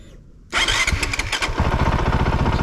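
A Honda trail motorcycle engine cranks and fires after a quiet moment, then settles into a loud, close, rapid-thumping idle that continues steadily.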